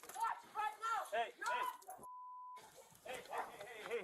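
A pet dog makes a string of short yips and whimpering barks in quick, close bursts, broken by a brief steady tone and a gap before more whining and restless noises return.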